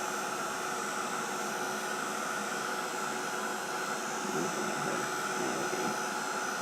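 A heat tool blows steadily over a mixed media tag to dry the paint, giving a continuous even whooshing hum with no pauses, close and fairly loud throughout.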